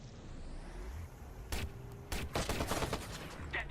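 Gunfire in the video game Watch Dogs: a sharp shot followed by a rapid cluster of loud bursts over a low rumbling background, with no one talking.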